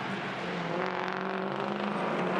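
A Holden Commodore touring race car driving past at speed on a racing circuit, a loud, steady engine whine with a rising and falling pitch as it passes close by, no talk.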